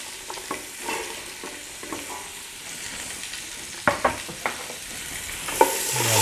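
Celery and carrot sizzle gently in a hot pan with asafoetida, under steady frying noise with stirring scrapes and a few sharper clinks of a utensil against the pan.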